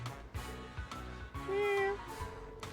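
A cat meows in the Trails to Azure video game, a couple of short voiced calls with a longer tonal cry in the middle, heard over game background music with no talk.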